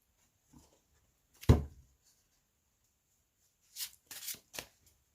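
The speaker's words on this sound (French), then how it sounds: "Alors je vais battre les cartes" Oracle cards being shuffled by hand, a soft swish around 1.5 s followed after a pause by a quick cluster of three riffling flicks near the end, close and fairly quiet in an otherwise still room.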